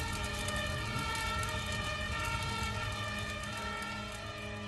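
Fire engine siren in a video game, a steady sustained wail with harmonic tones, moderately loud and continuous over a dense background rumble, no talk.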